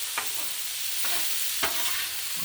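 Ground beef and chopped onion frying on a griddle, a steady sizzling hiss broken by three distinct scraping stirs of a spatula, close and clear with no talking.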